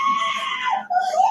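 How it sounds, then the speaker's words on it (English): A woman screams in a horror film scene, a loud sustained shriek that wavers and breaks briefly before rising again, alone with no talk. "the lady who's just standing there screaming"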